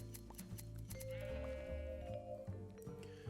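Sheep in Minecraft bleat in wavering calls as they are sheared, quiet and layered with other soft game clicks and tones.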